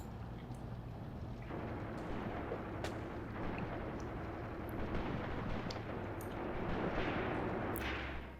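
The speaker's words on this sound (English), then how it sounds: "Right, disappointed with that artillery." Artillery barrage firing in the WWII tactical game Graviteam Tactics on the Luga Line: a dense, continuous rumble of distant booms and sharp cracks over a steady low drone, with no one talking.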